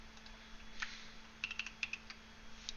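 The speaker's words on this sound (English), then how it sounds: "We want to type the colon over here." Rapid, irregular clicking of keys as someone types on a computer keyboard, close and crisp, with bursts of keystrokes over a steady background hum and no talking.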